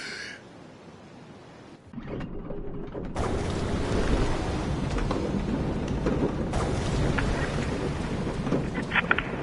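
Thunderstorm in a PlayStation 4 VR game: quiet ambience gives way to a sudden rumble of thunder and a steady wash of heavy rain and wind that swells and stays loud, with scattered cracks near the end.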